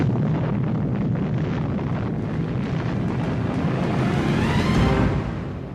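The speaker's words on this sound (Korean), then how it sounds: "정말 엄청난 폭발음이었어요." A huge explosion at the Saint-Nazaire dock, where the blast wrecked the dock gate and the bow of the Campbeltown: a loud, continuous roaring rumble that holds steady for several seconds and then fades at the end.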